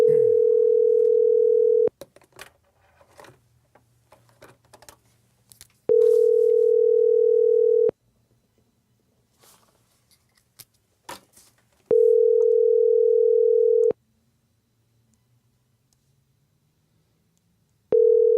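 Telephone call tone repeating as a steady pitched beep in long two-second bursts separated by pauses, loud and clear with faint background noise between rings and no talking.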